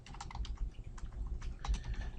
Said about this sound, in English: boy, my typing is not doing well